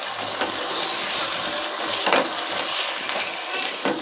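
Spices with cardamom and cinnamon being stirred in a pot for shahi chicken korma over high heat, a steady sizzle with soft scraping strokes and a few clearer scrapes, no talk.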